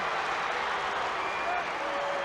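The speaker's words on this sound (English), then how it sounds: "Couldn't hear, with all the crowd noise, couldn't even hear the whistle" Crowd noise in a basketball arena at a 1983 Anderson vs Lebanon game, dense continuous cheering and clapping, loud and close, with voices mixed in throughout.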